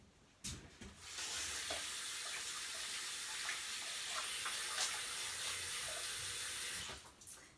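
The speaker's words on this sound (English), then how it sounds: "So I'm going to put this aside and wash my hands really fast." Running tap water splashes steadily into a kitchen sink as hands are quickly washed after kneading whole wheat dough, a close, even hiss lasting several seconds with small rubbing splashes and a faucet knock at the start.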